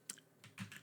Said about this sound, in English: if you hear my keyboard go or whatever